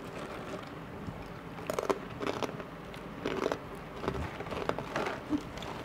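Spicy snack chips crunch as they are bitten and chewed up close, a run of crisp irregular crackles with no talking.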